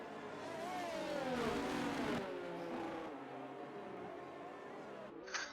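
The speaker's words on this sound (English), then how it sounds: "Red Bull obviously feeling a little bit more confident, putting the foot down" A race car accelerating hard at Circuit of the Americas in a racing video game, a rising whining engine note with gear shifts, steady and moderately loud, with commentary voices faintly underneath.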